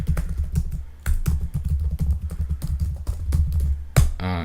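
Rapid clicking of a computer keyboard as an SSH command is typed, close and steady with dense keystrokes, a brief pause after the first second, ending in a firm Enter press.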